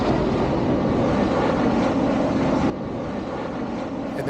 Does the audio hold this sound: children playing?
no